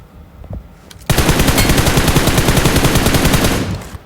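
A loud, sustained burst of machine gun fire in PUBG Mobile erupts after a moment of quiet, with rapid evenly spaced shots hammering for nearly three seconds before stopping.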